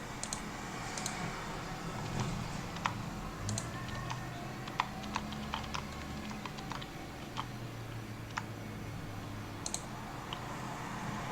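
Computer mouse button clicks on a desk, several sharp, faint ticks scattered over steady low room hum, with no talking.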